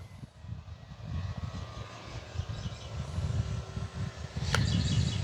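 An E-flite Carbon Z Cub SS radio-controlled airplane on floats takes off from a pond, its electric motor whining steadily and building in loudness, with a brief sharp click near the end.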